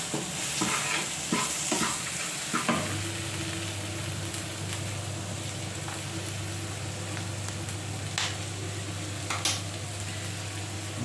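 Coconut powder and boiled potato being stirred into a potato curry, with soft sizzling and intermittent scraping stir strokes over a steady low cooking hum, close and alone with no talk.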